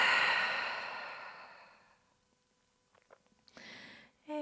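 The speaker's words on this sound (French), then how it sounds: "Et ouvre la bouche, expire" A long, open-mouthed exhale during lying-down yoga relaxation, breathy and close, fading out over about two seconds, followed by quiet and a few small soft sounds.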